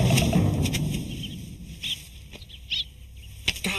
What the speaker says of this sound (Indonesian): Tadi kakek teriak burung pada terbang